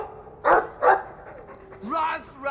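A Mabari war dog in the game Dragon Age II gives two short, sharp barks, followed by a whiny vocal sound, close and clear alongside a speaking voice.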